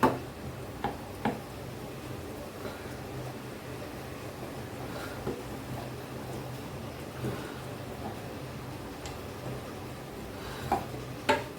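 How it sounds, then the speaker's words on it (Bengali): A spoon stirring a cornflour mixture for homemade mango ice cream in a pot to work out lumps, soft continuous scraping with occasional light clinks against the metal, close and quiet with no talking. "ভালো করে গুলিয়ে দিতে হবে যেন ঢেলা না থাকে।"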